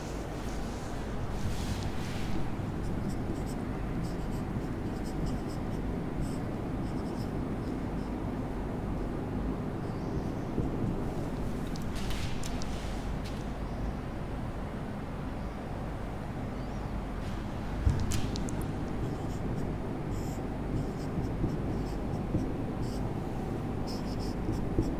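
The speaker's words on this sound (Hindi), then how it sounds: "सबसे पहले मैं यहाँ पे थोड़ा लिख लूँ।" A teacher writes by hand during a Hindi class lesson, a steady scratching that runs throughout with a few louder strokes, close and fairly loud over a constant background hiss.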